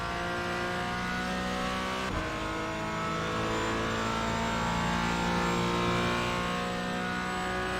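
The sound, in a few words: Porsche race car accelerating out of a corner in iRacing video game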